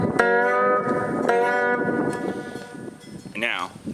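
A slide guitar pressed too hard frets out: two plucked, ringing notes with a buzzy edge sound in turn, followed by a brief wavering slide up the neck, close and clear.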